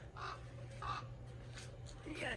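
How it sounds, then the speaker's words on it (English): Crow-like caws ring out outdoors, several harsh calls spaced across the moment over a steady low rumble, with a person's voice mixed in. "Shoot these stupid birds."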